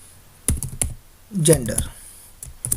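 Close computer keyboard keystrokes come in short bursts, a few separate clicks followed by a quick cluster, as someone speaks briefly over them.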